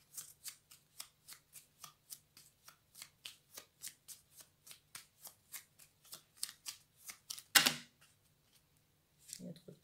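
Tarot cards shuffled by hand in a quick, steady run of about two dozen crisp riffles, close and fairly loud, ending in one louder cascading burst and then a final short rustle, with no voices.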